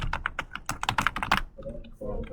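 Rapid clattering keystrokes on a computer keyboard, close and moderately loud, in a quick irregular burst that stops abruptly, followed by a brief low hum.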